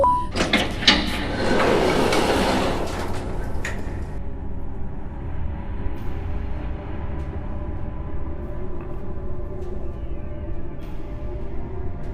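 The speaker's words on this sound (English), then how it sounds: "Open that door." A heavy door in the horror game Garten of Banban 9 slides or grinds open with a loud, dense rumble lasting a few seconds, then settles into a steady low mechanical hum for the rest.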